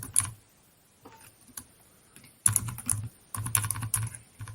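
Quick bursts of typing on a computer keyboard, close clicky keystrokes in short runs separated by pauses, with no voices.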